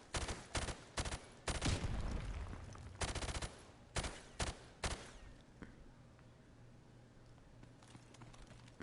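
Rapid video-game gunfire at a firing range, several quick bursts of shots in the first five seconds followed by quieter mechanical clicks and handling noises, with no talking.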